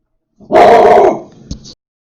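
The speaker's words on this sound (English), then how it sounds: "And just then, dog starts barking." A dog lets out a single loud, close bark-like yelp that trails into a short whimpering tail, followed by a brief faint sound, then silence.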